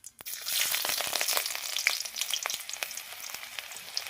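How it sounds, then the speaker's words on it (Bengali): Chopped onions dropped into hot mustard oil with cumin seeds, frying with a loud, steady crackling sizzle punctuated by sharp pops and spits, close and without talk. "তো দেখতে পাচ্ছ আমি পেঁয়াজগুলো দিচ্ছি, সব পেঁয়াজ ছেড়ে দিয়েছি।"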